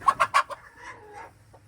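A chicken in a coop clucks close by, a quick run of four sharp clucks followed by a drawn-out, wavering squawk, then quiet.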